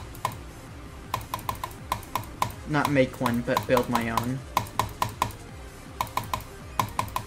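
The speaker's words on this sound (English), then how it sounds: "I'm just using like a basic gaming Logitech keyboard" Clacking on a basic Logitech gaming keyboard with brown switches, quick bursts of keystrokes in short rhythmic clusters, close and moderately loud, pausing while someone talks over it briefly.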